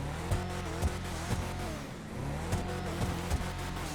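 An SUV engine in GTA 5 Online revs hard in a steady, rhythmic pattern, loud and close, with repeated throttle blips rising and falling over a constant growl.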